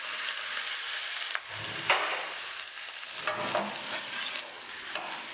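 Curd poured into chicken frying in a pan hisses with a dense, steady sizzle while a spoon scrapes and stirs through it in uneven strokes, close and continuous.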